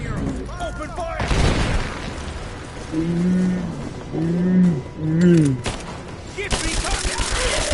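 Gunfire bursts in Rise of the Tomb Raider, sharp broadband cracks at the start and end around shouted voices, with a loud impact and a growling mid-section between them.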